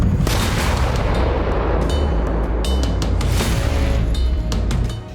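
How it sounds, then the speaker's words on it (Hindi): Heavy, continuous rumbling blasts from JDAM bombs striking a Russian army position in Kursk, a dense roar of low booms rolling on for several seconds with sharper crack-like bursts layered through it, loud and sustained before cutting off at the end. "कुर्स्क के तियोक्तिक्नु में रूसी सेना के ठिकाने पर यूक्रेन ने जडैम बमों से हमला किया"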